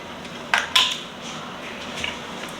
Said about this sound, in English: So I'll just use a metal spatula to take those off.